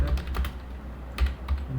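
Computer keyboard keys tapped while writing code, light clicking bursts at about 0.1–0.5 s and again around 1.2–1.5 s, close and fairly quiet with no voices.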